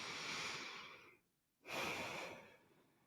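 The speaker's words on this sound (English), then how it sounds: "Fully breathing, fully inhaling, fully exhaling" A single deep, full breath, heard close and soft: a long airy inhale, a brief pause, then an equally full exhale.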